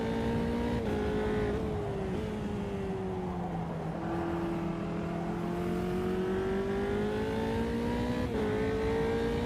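A Formula 3 race car engine in Automobilista 2 drones steadily at high revs, pitch dipping and climbing through gear changes and corners on a low-grip circuit, loud and continuous with no talk.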